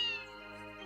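A cat meows once in a film scene, a drawn-out tonal cry with rich harmonics that fades over a second, heard fairly faintly with no talk over it.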